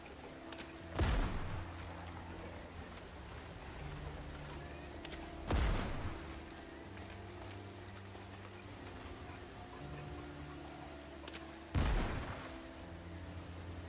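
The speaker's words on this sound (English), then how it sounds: "And if I can take them all out with a gun, I will." Gunfire in the space exploration game No Man's Sky, three separate sharp shots spaced several seconds apart over a steady low ambient game drone.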